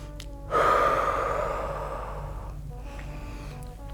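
A long, audible exhale of breath during a dance stretch swells suddenly, then fades slowly over a few seconds, close to the listener, with no words spoken.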